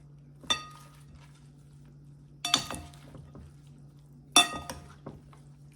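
Salad tossed in a bowl after coarse salt and ground pepper are added, giving three separate bursts of clinking and rustling utensils against the dish, each brief and close, with quiet pauses between.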